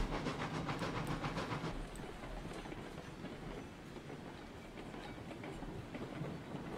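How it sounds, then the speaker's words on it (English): A Class 70 locomotive in RailRoads Online starts up with a dense rumble and hiss, with a rhythmic clattering running through it that stays loud and steady throughout, with no talking. "Class 70 Thunders to life."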